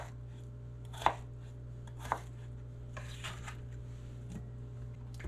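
Knife chopping potato and pork into bite-size pieces on a board, a few distinct sharp cuts spaced about a second apart over a steady low hum, with no talking.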